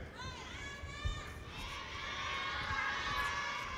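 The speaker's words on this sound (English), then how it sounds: "you can hear there's some shouts of support in the audience there" Crowd noise from a judo match audience at an arena in Tokyo, with scattered shouts of support and cheering voices rising over a steady murmur, growing slightly louder toward the end.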